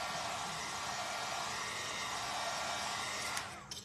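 A hair dryer blows steadily over a freshly prepped Dollar Tree canvas with a loud, even whoosh of air at close range, then cuts off near the end, leaving a couple of faint handling clicks.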